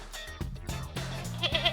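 A goat bleats in a few wavering, nasal calls, the last one loud and quavering, close by with no talk.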